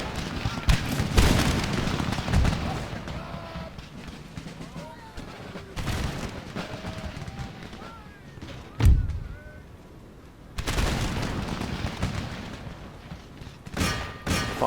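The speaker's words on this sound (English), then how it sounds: "Give them a volley, lads." Musket volleys crash out in Empire: Total War, with loud booming bursts near the start, mid-clip around six and nine seconds, and again late, over a steady din of battle and a commentator's talk.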